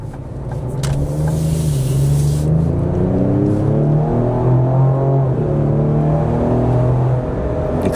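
A 2026 Ford Explorer Tremor SUV cruises on a test drive, its engine note climbing steadily through rising harmonics as it accelerates, a loud continuous cabin drone with no talking.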